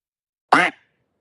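A single short, loud duck quack plays alone as a replay sound effect during a college golf championship broadcast.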